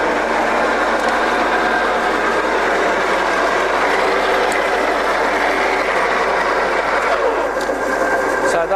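A Scott 6250 lathe runs with its lead screw and carriage feeds engaged, giving a loud, continuous whir of gears and machinery that holds steady throughout.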